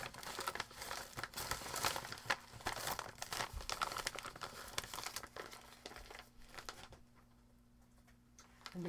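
Paper crinkling and rustling as a letter is folded back up and slipped into an envelope, steady close handling noises with soft crumples that thin out near the end, quiet and without speech.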